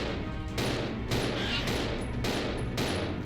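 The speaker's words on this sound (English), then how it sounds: "Okay, I wasted 2 bullets." Rapid bursts of video-game gunfire, four or five loud broadband volleys spaced about half a second apart over a constant dense background, with no speech over them.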